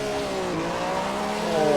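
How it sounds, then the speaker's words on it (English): Historic Maserati Formula 1 race car engine droning and revving at steady high pitch on a slippery track, a continuous close engine tone that swells slightly louder toward the end. "Let's rev our engines, get them all nice and hot. It's that beautiful Maserati."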